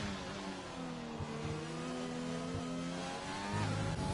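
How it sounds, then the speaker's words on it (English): McLaren race car in a racing game on the Italy circuit, engine note rising and shifting through gears as it threads a high-speed chicane, moderately loud and steady with no voices. "in the other McLaren here, just coming through the high-speed Shikari chicane"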